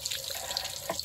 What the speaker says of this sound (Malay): Biar air dia keluar macam ni.